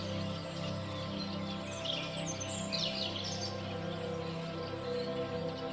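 A little bird chirps softly in a few high, quick tweets, faint over a steady bed of low ambient music.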